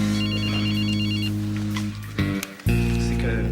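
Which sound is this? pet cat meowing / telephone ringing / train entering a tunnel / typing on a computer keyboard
telephone ringing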